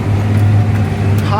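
A John Deere 8530 tractor baling hay draws near, its engine a steady low drone with a strong hum, close and loud, while someone talks over it.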